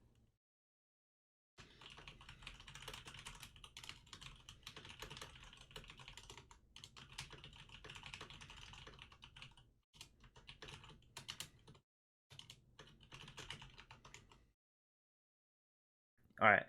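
Notes typed on a computer keyboard, close and quiet, a steady patter of key clicks in several bursts separated by short pauses.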